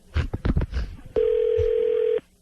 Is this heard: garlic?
no